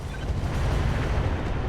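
Heavy weapons fire slams into a Dragon Slayer mech in the RogueTech game as a dense, rolling low boom and rumble that stays loud and unbroken for nearly two seconds.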